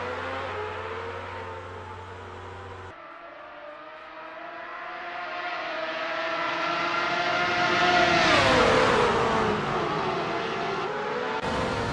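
Race cars in Assetto Corsa rev up and pull away together at the start, a dense engine drone that swells and climbs in pitch toward a loud peak, with an engine note sweeping downward as one car passes.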